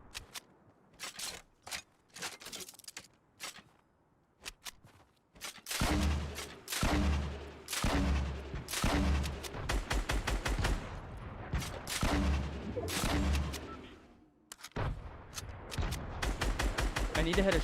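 Dense bursts of rapid gunfire in a Fortnite solo duos match, loud clustered volleys and single cracks coming in waves, with a player talking over the action.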